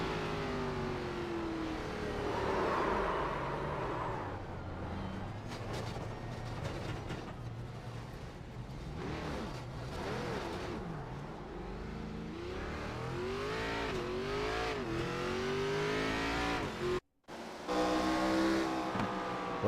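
Onboard engine of the number 42 race car in a Scrambler Series race, a steady loud drone that sags and rises as the driver lifts off the gas and rolls, with a brief dropout near the end.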